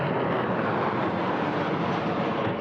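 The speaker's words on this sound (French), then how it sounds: "Les avions volent au-dessus d'ici." Airplanes flying overhead, heard as a continuous broad engine roar that holds steady throughout, with no talking.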